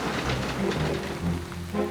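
Heavy rain pelting down steadily at an Iron Age hill fort excavation, a dense continuous hiss of drops on surfaces with a low rumble beneath, close and loud throughout with no speech.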